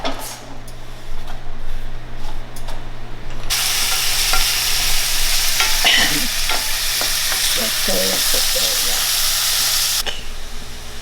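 Green beans sizzle and hiss in extra virgin olive oil in a pan. The sizzle rises sharply partway through, with stirring scrapes and soft clatter.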